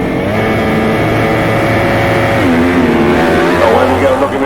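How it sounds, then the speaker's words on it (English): Grasstrack racing motorcycles revving before a heat of left-handers, several engines droning loudly together, with pitch rising as the bikes rev harder toward the end. "Revving up then for another heat of the left-handers."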